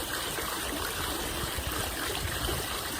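Steady rushing water from a small cascade in a Toulouse square, a continuous close, even splashing and gurgling flow with no pauses.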